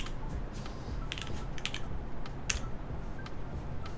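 Computer keyboard typing during a keyboard build stream, scattered quiet clicks and clacks in small irregular bursts, with one sharper tap, over a steady hiss of room noise.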